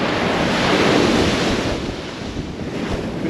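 Strong wind roars across the exposed coast at Kilnsea, with surf rushing underneath; the gusting is loud and steady, easing slightly partway through.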